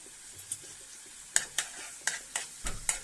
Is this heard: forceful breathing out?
no